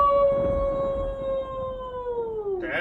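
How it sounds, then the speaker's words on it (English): A single long wolf howl, clear and close, holding a steady tone before sliding downward at the end, with a brief noisy burst as it fades. "with the howling of the wolf, we are getting this thing started"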